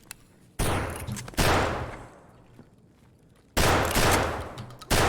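Gunfire in the shooter game Escape From Tarkov: loud, close bursts of rapid automatic fire in several long volleys, with short quiet gaps between them.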